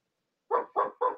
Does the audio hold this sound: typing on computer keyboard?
no